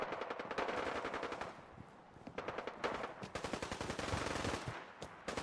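A varmint rifle fires in Fallout 4 in rapid, sustained bursts of sharp repeated cracks, loud and close, with short pauses between volleys.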